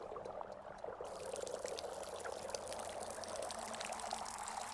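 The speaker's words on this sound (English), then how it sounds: "I'm gonna pour this into the tree." Water pours steadily onto a tree in the video game Wanderstop, a soft continuous splashing trickle heard faintly and alone.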